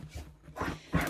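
Daisy the dog scratches and shuffles while making her bed indoors, three short close bursts of scraping and snuffling over about a second, with no talk.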